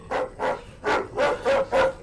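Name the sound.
dog barking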